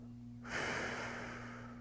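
A person breathes heavily while holding a stick mobility stretch, one strong, close exhale or sigh that rushes in and slowly tails off over a faint steady hum.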